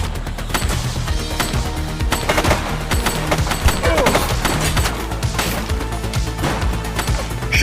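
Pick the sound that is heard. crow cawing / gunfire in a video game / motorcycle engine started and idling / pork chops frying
gunfire in a video game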